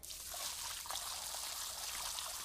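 Water pouring and splashing inside a house, a steady hissing, trickling flow that runs unbroken at moderate loudness with no voices over it.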